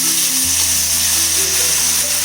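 Tomato paste sizzles and fries steadily in a hot pan while pasta cooks, a dense continuous crackle close by with a low hum underneath.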